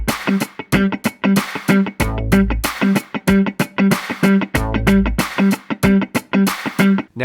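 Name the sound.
guitar playing single note G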